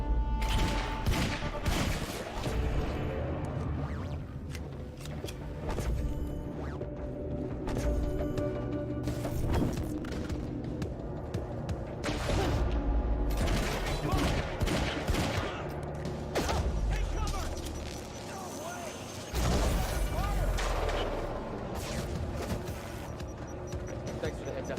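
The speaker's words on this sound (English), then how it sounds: "Is it shooting behind you?" Gunfire in the video game Quantum Break erupts in repeated bursts over a continuous game soundscape with music and effects, while a person talks intermittently.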